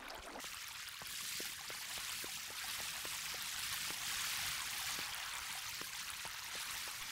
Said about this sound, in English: Now you're ready to start filling in the water.